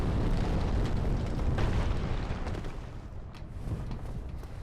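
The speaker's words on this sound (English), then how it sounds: "But he drops bombs here," A bomb explodes in Dark Souls Remastered, a dense, loud roaring blast that rumbles on for several seconds and slowly fades, with no voices over it.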